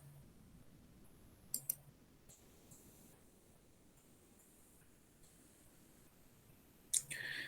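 A computer mouse double-clicks twice in a quiet room, two quick sharp clicks early on and another crisp click near the end.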